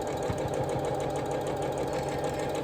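Sewing machine chain piecing two quilt pieces together with a quarter-inch seam, a steady close, fast mechanical whirr running throughout with a faint rhythmic ticking underneath.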